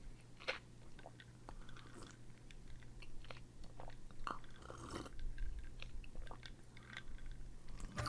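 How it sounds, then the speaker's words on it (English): Someone close to the mic sipping a drink while gaming, with repeated wet mouth and slurping sounds over several seconds amid faint clicks and a steady low hum. "I can hear the sipping"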